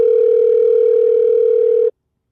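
A telephone gives one steady, loud electronic ring tone lasting about two seconds before stopping dead, with nobody answering and no voices.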